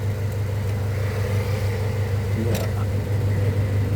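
A transversely mounted engine in a front-wheel-drive car idles with a steady low rumble, close and continuous, just before being shut off; a brief spoken word briefly rises over the drone.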